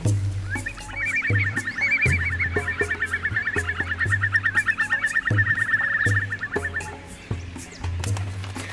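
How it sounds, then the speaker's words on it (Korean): Pelican chicks clamour in crowded treetop nests, a dense, continuous chorus of raspy calls over repeated low honking adults, loud and close with no talk. "나무에 가득한 둥지마다 어미와 먹이를 기다리는 새들로 요란합니다"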